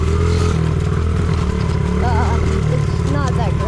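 A mini bike engine runs at a high idle, a close, steady buzzing putter with a fast, regular pulse, while a person talks over it.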